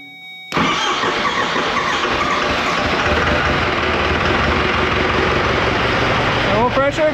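A 4BT Cummins diesel engine fitted in a Ford Bronco catches abruptly and then runs loud and steady at a rough, clattering idle. People talk nearby.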